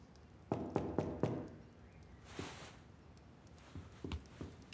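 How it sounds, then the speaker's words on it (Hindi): A quick burst of three or four wooden knocks on a door, close and sharp, followed by a pause and a few softer scattered thumps against a quiet room. "क्या दरवाजे पर मेरी दस्तक नहीं सुनी किसी ने?"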